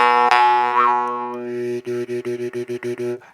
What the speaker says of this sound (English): The sound on a Gorka is kind of haunting.